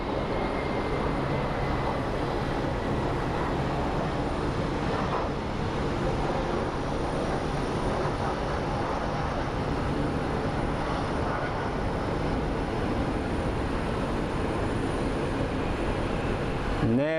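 Airliner landing at Phoenix Sky Harbor International Airport, a steady broadband jet roar holding loud and constant throughout with no voices.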